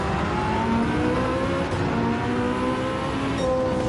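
Race car engine in Gran Turismo 7 on PSVR2, a steady loud drone with shifting engine tones and a gear change near the middle, another car's engine overlapping, no talk.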